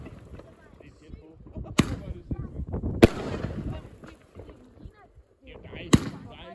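Fireworks launched outdoors close to a house, several sharp cracking bangs at irregular intervals with fizzing whooshes between them, while people chat in Danish throughout.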